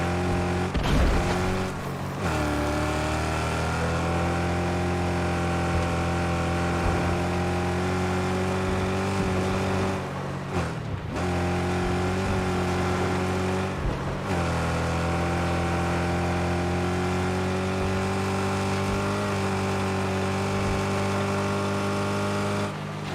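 A heavy, overloaded car in the Mad Max video game drives with a steady low engine drone, holding a constant pitch with a couple of brief dips from gear changes or bumps, loud and continuous.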